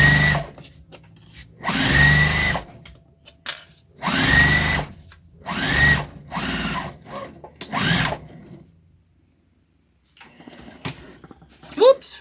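Sewing machine stitching a half-inch seam on a thick beginner tote bag, running in several close, loud bursts of steady whirring separated by short pauses, with a voice talking near the end.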